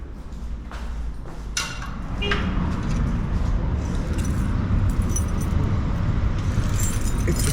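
Keys jangling as someone rummages for the right one while closing up an office, metallic clinks in the first couple of seconds over a steady low rumble of road traffic nearby.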